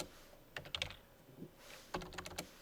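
Close, fairly quiet keystrokes on a computer keyboard come in two short bursts of several clicks each, with a pause between them and no voices.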